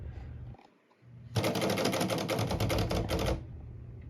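A Royal HHE typewriter clatters with a quick run of crisp, close key strikes lasting about two seconds, heard alone with no talk.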